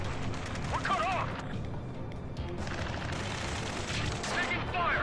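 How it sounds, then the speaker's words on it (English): Gunfire bursts from the video game Ace Combat 7 sound in dense, rattling volleys around a space elevator battle, with whistling sounds and radio voices shouting over the shooting. "Taking fire! We're pinned down! Shoot back!"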